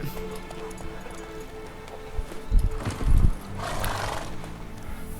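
A horse in The Witcher 3 video game, with hoofbeats and a couple of heavy thuds mid-clip followed by a brighter whinny-like burst, close and fairly loud over low background noise.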